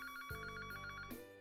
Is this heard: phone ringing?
yes